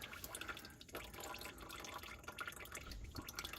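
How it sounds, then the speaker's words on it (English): Used engine oil streaming out of a car's oil pan drain, a continuous close liquid pour with splashing drips, no talking. "Here is the oil pan with the oil coming out."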